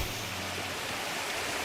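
A waterfall in the video game Wuthering Waves gives off a loud, steady, broadband rush of falling water that runs on without a break.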